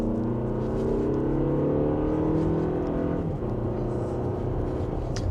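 A Toyota Grand Highlander in sport mode, held in second gear, accelerates mildly with a steady engine drone that rises gradually in pitch, heard from inside the cabin, loud and continuous with no talking.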